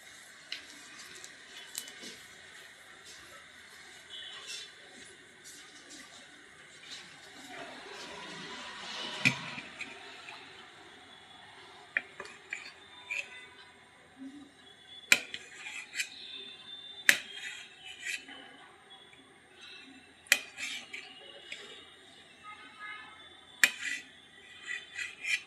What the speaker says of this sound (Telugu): ఇప్పుడు ఎగ్స్ని స్లైసర్స్లా కట్ చేసుకుందాం.